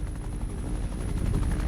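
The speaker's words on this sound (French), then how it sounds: "L'hélico, tu me vois pas, alors dégage" A helicopter passes overhead in a game, its rotor giving a continuous low thumping drone that stays loud and steady throughout, with no talking.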